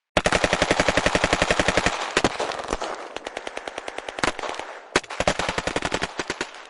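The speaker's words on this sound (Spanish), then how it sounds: "Los atacantes dispararon al patrón Norero brutalmente, a quemarropa" Rapid bursts of automatic gunfire, loud and close, in a point-blank shooting attack, with a brief pause before another rattling volley and several single shots.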